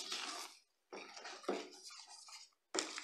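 A bamboo spoon stirs feijoada dumpling dough in a pot, making scraping, clattering strokes in two or three quick bursts separated by short pauses, close up and without voices.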